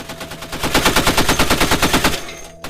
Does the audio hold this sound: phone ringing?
no